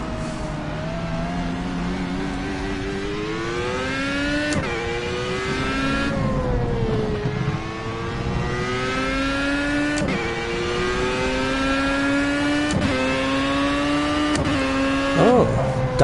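A race car engine in the Project Cars racing game revs hard through repeated accelerations and gear shifts, with rising harmonic whine dropping at each shift, loud and continuous, with a voice talking over it at times.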